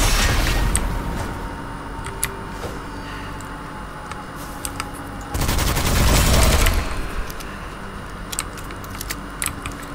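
Rapid gunfire in the dark shooter Witchfire, a dense burst of loud shots near the middle amid scattered sharp clicks and metallic rattles over a steady background bed.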